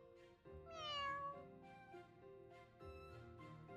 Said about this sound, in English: It's the cat from 5 years ago.